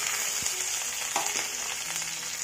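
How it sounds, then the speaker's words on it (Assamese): Chopped green chilies and garlic fry in hot oil, giving a steady, close sizzle throughout, with a few soft stirring clinks and scrapes over the continuous crackle. "তেলটো পকি অহাৰ লগতেই মই ইয়াত জলকীয়া কাটি লৈ পেলাই আৰু নহৰুখিনি অকণমান থেতালি ল'লোঁ।"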